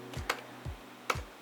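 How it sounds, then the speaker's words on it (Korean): Computer keyboard keys pressed while stepping through an Excel VBA macro with F8, a few sharp, close clicks spaced unevenly across a second and a half. "키보드 F8키 눌러서 단계별로 실행해 보겠습니다"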